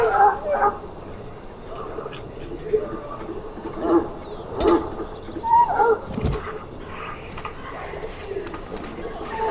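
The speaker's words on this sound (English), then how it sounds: "the sight and sound of a wave of war dogs howling and snarling" War dogs in the fantasy video game Dragon Age: Origins bark, yip and snarl in a restless pack, several bursts rising and falling over a continuous rumbling background murmur.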